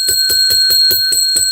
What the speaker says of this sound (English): That's 10 rings of the bell for you.